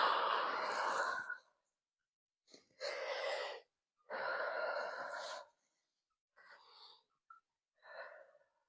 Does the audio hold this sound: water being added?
no